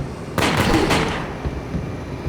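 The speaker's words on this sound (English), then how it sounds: "Then I pump in another 2 or 3 bullets to put him down." Gunfire in the video game ActionCam: Supernatural Case: two or three heavy, booming shots fired close together, then a short fading tail. There is no talking.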